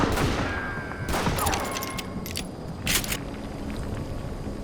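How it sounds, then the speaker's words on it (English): Scattered gunshots from the Western shooter Call of Juarez: Gunslinger, a few sharp cracks at irregular intervals over a steady background rumble, with two stronger bursts standing out; no one speaks. "Who's shooting at us? We're under fire!"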